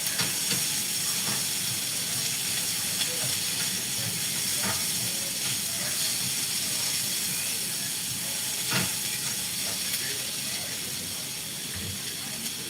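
Butter sizzles and hisses steadily in a hot pan on a home stove, a continuous bright crackle with faint scattered pops and no talk.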